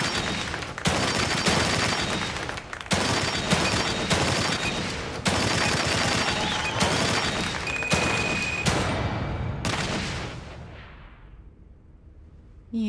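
Rapid bursts of gunfire at a shooting range in The Evil Within 2, loud repeated volleys with short gaps between them, ending in a booming decay that fades toward silence.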